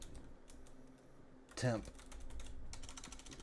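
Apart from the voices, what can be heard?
typing on a computer keyboard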